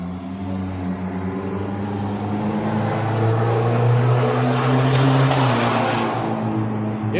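A small engine revs hard and steadily to clear out its carburetor, a strong droning roar with harmonic bands that climbs slightly in pitch and loudness mid-way, then drops off near the end.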